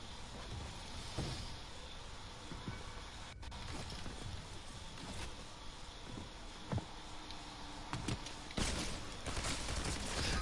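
Sporadic gunfire in the Fortnite battle royale, sharp isolated shots scattered over a constant game ambience, ending in a louder, denser burst of fire near the close.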